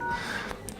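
Keypad tones on a Vivo V9 Pro as a secret code is entered, a few short quiet beeps in quick succession.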